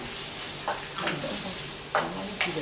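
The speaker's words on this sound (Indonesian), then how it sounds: "Kita tumis bawang bombay." Onion sautéing in hot oil in a pan, with a soft steady sizzle and a few short stirring scrapes breaking through at intervals.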